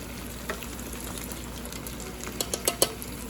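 Pepper steak and broccoli stir-fry in a pan, heard as a continuous close sizzle with bubbling and a few sharper pops and scrapes near the end, with no talking.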